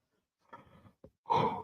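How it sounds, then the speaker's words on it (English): A person yawns softly and close by, with a drawn-out breathy exhale, a short catch, then a louder open-mouthed sigh at the end. "Apologise about the yawning."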